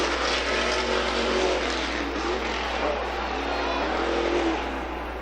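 Stadium Super Trucks at Long Beach sliding sideways in a drift session on a victory lap, a dense, steady roar of engines and tire noise, with a commentator's voice blended into the din.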